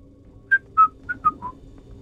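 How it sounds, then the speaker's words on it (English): A character in the Starfield video game whistles while walking past: five short, clear whistled notes in a casual falling tune over a low game ambience. "I'm even doing the dodgy whistle as I walk past you."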